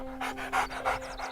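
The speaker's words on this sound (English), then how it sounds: "She had an emotional support dog at her side, a black lab with a white stripe running down the middle of his face." A black Labrador with a white stripe down its face, an emotional support dog, pants in quick rhythmic breaths, close and clear, with several distinct huffs over a steady low hum.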